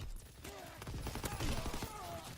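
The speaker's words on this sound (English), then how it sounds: "I was firing directly into his body" Rapid bursts of gunfire from a console shooter video game, quick clustered shots with a faint metallic edge, fairly quiet and overlapping one another across the moment.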